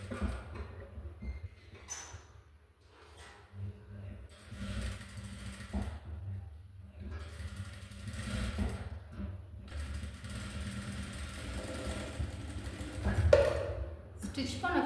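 A sewing machine stitching fabric hums and rattles steadily with short pauses and restarts, while a person talks through much of it.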